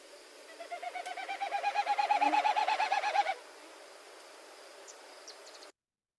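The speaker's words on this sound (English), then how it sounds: "Wilson snipe have a display flight where they actually pass air through their outer tail feathers, and they make this certain sound." Wilson's snipe display flight winnowing, air rushing through the outer tail feathers: a rapid pulsing hoot-like tremolo that swells in volume over about three seconds, then cuts off, leaving faint distant bird calls.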